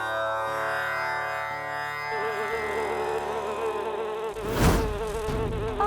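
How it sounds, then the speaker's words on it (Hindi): A poisonous fly buzzes loudly and steadily over a dramatic musical score, its whine swelling into a close, intense burst near the end. "ये विषैली मक्खी।"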